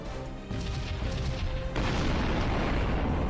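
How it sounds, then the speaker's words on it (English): Point defense guns firing aboard a starship in the Sunrider game, heavy booming blasts that swell into a loud continuous roar of explosions, close and dense, with no talking. "Fire point defense guns."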